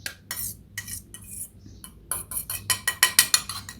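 A metal spoon stirs and clinks against a bowl of homemade set yogurt with thick cream on top, gently mixing it in a series of quick scraping taps that grow sharper and more rhythmic toward the end, with no talking.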